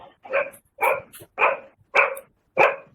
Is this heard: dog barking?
yes